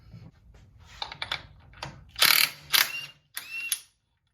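A wrench loosening a reverse-thread nut on a Harley Davidson five-speed gives a series of close ratcheting clicks and metallic rattles in short bursts, with a few louder scraping bursts near the end.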